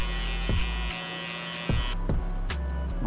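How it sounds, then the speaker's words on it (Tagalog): An electric shaver trims hair at the back of the head during a taper haircut, its close buzzing motor steady with short bursts and pauses as the blade moves. "Sa likod, shaver na din."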